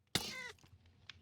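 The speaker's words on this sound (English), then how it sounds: "That's my boots, by the way. Making that cat noise." A single short cat meow sounds from magic boots in the Minecraft modpack Enigmatica 6, a clear bright cry at the start followed by faint quiet game noises.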